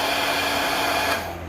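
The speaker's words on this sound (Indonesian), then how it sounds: "Ini kita panasin lagi pakai hair dryer lagi" A hair dryer blows at close range, heating the screen of an OPPO A31 phone during an LCD replacement, with a steady loud whoosh that drops off sharply near the end.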